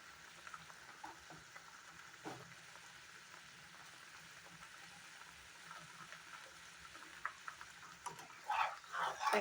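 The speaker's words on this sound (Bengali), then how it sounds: "এখন কিছু সময় গ্রেভিটা খুব সুন্দরভাবে ফ্রাই করে নেব।" Gravy for egg curry frying in a pan, a steady soft sizzle with faint stirring clinks, growing louder and busier toward the end.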